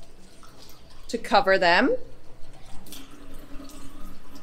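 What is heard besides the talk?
water poured from tap onto oats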